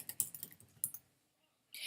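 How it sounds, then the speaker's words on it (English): Quick, light keystrokes on a computer keyboard as hashtags are typed, a close burst of clicks that stops into near silence before a short final rustle. "As I'm typing in hashtags, it's giving me suggestions of other types of hashtags."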